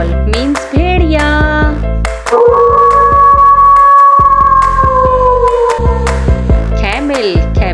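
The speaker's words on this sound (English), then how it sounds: "Wolf. Wolf means bhediya." A wolf howls in one long, smooth sustained note that slowly falls, rising clear above background music, with brief speech before and after it.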